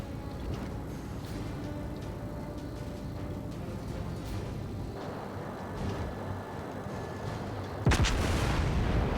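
Battleship New Mexico firing main-gun salvos in a naval combat video game, booming reports over a steady rumble of ocean and engine noise, with a loud heavy blast near the end.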